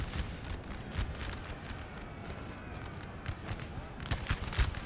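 Artillery booming in Napoleon: Total War battle, a busy field of repeated cannon thumps and sharp reports at varying distances, steady and moderately loud with denser firing toward the end, voices faintly present beneath.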